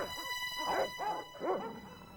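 Dogs in the Broken Sword adventure video game barking and yelping in a few sharp bursts, moderately close over a low ambient game backdrop.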